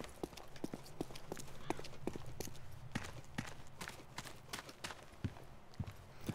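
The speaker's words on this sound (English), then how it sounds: "I heard the footsteps, I'm like, wait a minute." Footsteps in the video game ArmA 2 DayZ, a quiet, steady series of evenly spaced crunching steps that continues throughout with no talking.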